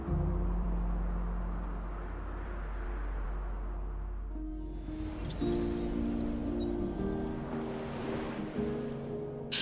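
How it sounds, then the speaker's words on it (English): Atlantic Ocean surf off the Kerry coast near Skellig, Ireland: a continuous heavy wash of waves breaking against rocks, with a deep rumbling roar and wind, loud and steady with no voices. "watching waves crash against the rocks"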